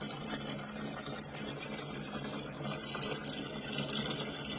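Water runs and gurgles steadily into a tank of dechlorinated water as a batch of freshly caught creek crawfish is tipped in, with a continuous close splashing and faint mechanical hum throughout.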